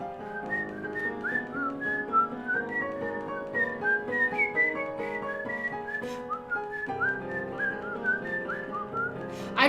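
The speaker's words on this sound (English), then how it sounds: "I like to whistle, but I don't know that tune so well, so I can't do it." A person whistles a melodic tune, a clear, close, solo line of sustained and gliding notes that runs throughout with no talking.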